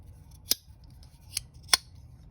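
A small handmade folding knife with a 1084 steel blade snaps open with sharp, crisp metallic clicks, three distinct snaps spaced over about two seconds, close and clear against near silence.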